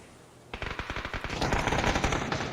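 Rapid suppressed bursts from a silenced 6x-scoped Mini 14 in PUBG, a quick run of sharp repeated shots blending into a dense, continuous volley of gunfire.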